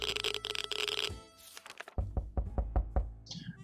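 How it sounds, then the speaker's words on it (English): Knocking on a door in the game 60 Seconds!, a quick series of sharp, loud knocks following a ringing tone, close and alone without talk. "We're knocking."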